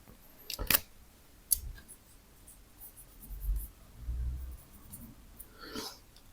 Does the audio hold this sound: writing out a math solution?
yes